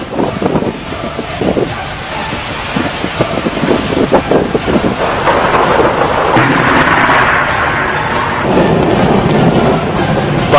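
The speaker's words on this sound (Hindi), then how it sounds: "बादलों की कड़कड़ाहट के साथ चमकती रोशनी जमीन पर रहने वाले कई इंसानों को एक झटके में अपना निशाना बना लेती है।" Thunder rumbles from storm clouds, a broad continuous roar swelling and staying loud through the second half, blended with gusty wind buffeting the microphone.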